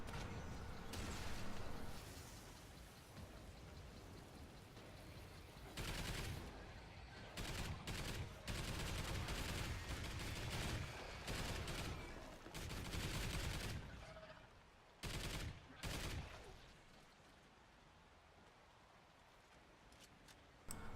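Sentry gun in the Call of Duty Extinction Mayday game firing in rapid repeated bursts, loud and close, with dense gunfire filling most of the stretch and brief gaps between volleys.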